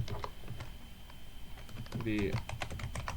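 Quick keystrokes on a computer keyboard come in short irregular bursts of close clicks, with someone speaking briefly over them.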